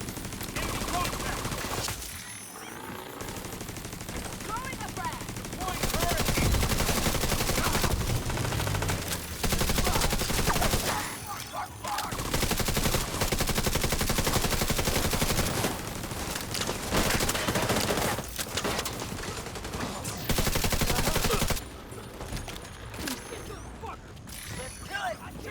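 Automatic gunfire in the shooter game The Division rattles in long, dense bursts with brief pauses, loud and near, mixed with mechanical clanks while a voice talks over it.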